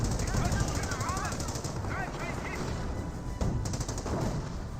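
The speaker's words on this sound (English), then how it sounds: "30 cal placement trying to fire away" Rapid bursts from a .30 cal machine gun emplacement firing in a Company of Heroes battle, crackling continuously amid dense combat noise, with commentary talking over it.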